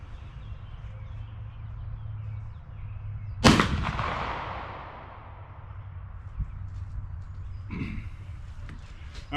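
A single sharp Pattern 1853 Enfield rifle shot cracks out at an outdoor range, followed by a long rolling echo, with a fainter thump later and a low steady background hum.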